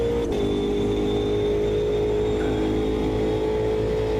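Ultima GTR race car in Automobilista 2 at Road America, its engine holding a steady loud drone with a sustained high whine and no speech.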